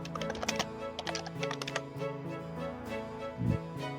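Rapid, irregular keystrokes clatter on a computer keyboard while someone types a colour name into graphic design software, a close, steady burst of clicks with a soft low hum beneath.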